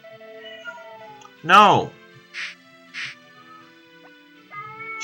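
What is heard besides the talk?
cat in heat meowing, wanting out of the room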